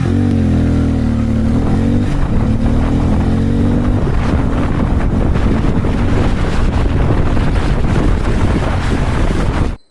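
Harley-Davidson X440 motorcycle accelerating on a highway, a loud continuous engine drone rising in pitch under heavy wind buffeting across the whole stretch.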